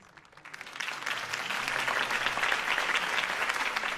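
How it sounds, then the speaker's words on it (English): A crowd breaks into applause after a political campaign speech in the Batman Telltale Series video game, clapping swelling from quiet into a sustained, dense ovation. "If only Mr. Wayne, my campaign's largest backer, could have heard that applause"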